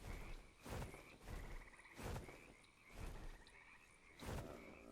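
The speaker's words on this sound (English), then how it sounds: "Oh, there's a frog." A frog in ARK Survival Ascended croaks in a regular rhythm, about six rasping pulses spaced under a second apart, fairly faint and alone.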